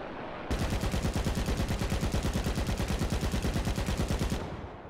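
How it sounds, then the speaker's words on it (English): An aircraft machine gun in War Thunder firing one long, steady burst of rapid, evenly spaced shots for about four seconds, loud and close, with no talking. "That clip size though for the machine gun"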